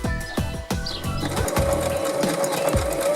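A sewing machine with a fine size 70 needle and polyester thread stitches a single layer of fine fabric, running loud and close with rapid mechanical whirring, clicking starts and a steady motor hum.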